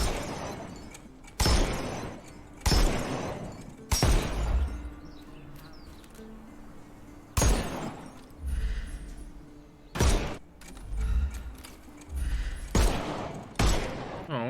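Gunfire in a Sherlock Holmes game: a series of sharp, loud shots at irregular intervals, each followed by a brief echoing tail, with quieter rumbling and movement between them.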